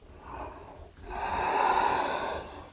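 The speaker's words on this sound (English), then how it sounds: "Now inhale to lift and open, and exhale to forward" A slow, audible breath flows out during a yoga forward fold, a soft airy exhale that swells and holds steady for over a second after a shorter breath before it, close and alone without talk.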